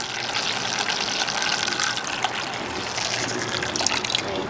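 Homebrew wort for a hazy pale ale is poured back over the grain bed in a steady, close splashing gush that runs continuously, with no voices.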